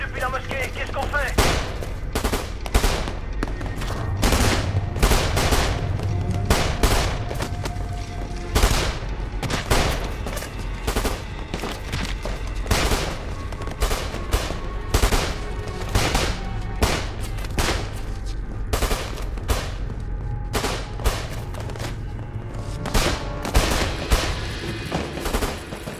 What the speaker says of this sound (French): Ils font feu depuis la mosquée.